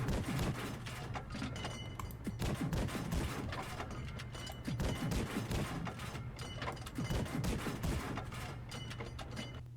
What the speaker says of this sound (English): So here's how the gun shoots.